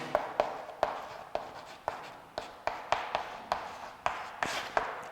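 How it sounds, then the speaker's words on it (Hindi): Pen or chalk tapping and scratching on a board while maths working is written out, close by, in a steady series of sharp strokes at a brisk, uneven rhythm. "मैं सिस्टमेटिक लिख रहा हूं मैं।"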